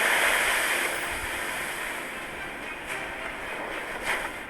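Tsunami waves crashing onto shore, a loud, continuous roaring surge with heavy hiss that eases slightly, then a couple of swelling crashes near the end, no voices.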